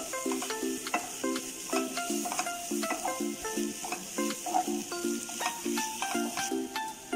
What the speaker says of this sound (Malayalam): നമ്മൾ ക്രഷ് ചെയ്ത് വെച്ച ചിക്കൻ കൂടി ഇതിലോട്ട് ആഡ് ചെയ്യാം. എന്നിട്ട് നന്നായി മിക്സ് ചെയ്ത് കൊടുക്കാം.